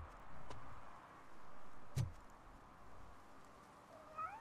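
A cat meows in the video game Robocop Rogue City, a few short mews over a low ambient hum, with one sharper cry midway, fairly close and without talk.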